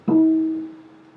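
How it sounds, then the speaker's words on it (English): A single plucked guitar natural harmonic at the 7th fret rings out as a pure, bell-like tone, sustaining and slowly fading with no other sound around it. "harmonic, which is the 7th fret,"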